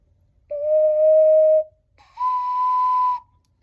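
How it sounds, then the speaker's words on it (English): An alto ocarina in the key of C plays two clear, pure held notes, the second slightly higher than the first, each lasting about a second, close and loud with a brief gap between. "This is my alto ocarina in the key of C"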